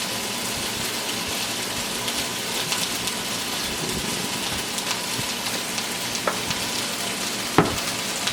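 Capers sizzling and crackling in hot olive oil in a pan, a steady dense frying hiss with scattered pops and one sharp clink near the end, no voices.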